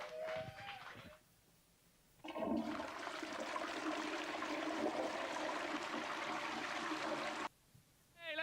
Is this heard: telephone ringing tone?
no